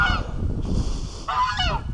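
A goose gives several loud, nasal honks close by, a quick burst at the start and more calls near the end, over a quiet outdoor background.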